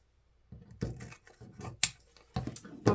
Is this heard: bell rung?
no